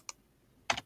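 Two quick, quiet keystrokes on a computer keyboard, one light tap followed after a pause by a slightly longer double click, in a quiet room.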